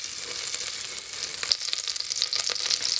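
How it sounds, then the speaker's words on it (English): Leek sizzles and crackles in melted butter in a hot pot, a bright continuous frying hiss with small pops and stirring noises, close and loud, no talking. "So I'm now starting to fry the leek, and I've heated the pot and I'm melting now the butter."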